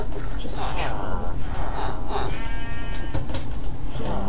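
A sheep bleats several times in Minecraft, short nasal calls scattered through the clip, mixed with close, hushed voices talking over the game at night.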